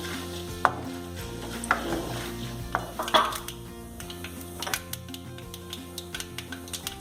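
Urad dal and chana dal frying on low heat in a pan for a tomato onion uppittu, with scattered utensil clinks and scraping stirs over a steady low sizzle.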